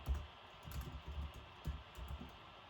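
Soft, quiet keystrokes tap on a computer keyboard while code is entered, an irregular run of light clicks with a few slightly firmer presses spread across a short stretch.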